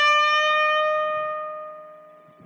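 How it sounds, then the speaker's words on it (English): A single electric guitar note bent from the 15th toward the 17th fret but underbent so it stops short of the target pitch, ringing as one clear sustained tone that slowly fades, with no voices. "I'll bend from fret 15 to fret 17 and I'll make sure I underbend"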